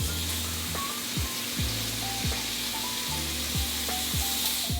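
A salmon fillet frying in melted butter in a pan, a continuous loud sizzle with crackling spatter, steady and close, with no voices.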